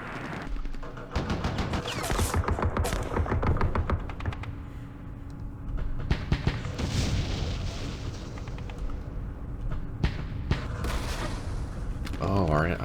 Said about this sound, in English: I'm going to bring these mortars over here, hit that, fire across the way.